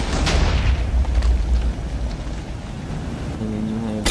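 Iron Man smart missiles blow up in Minecraft as a loud, rumbling burst of booms that rolls on and fades, with a short tonal hum near the end.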